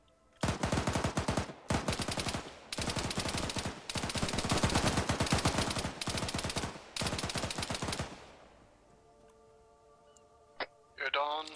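Gunfire in the Arma 3 video game: loud, rapid automatic bursts, several separated by short gaps, followed by quieter radio-style voice chatter and a final short shot.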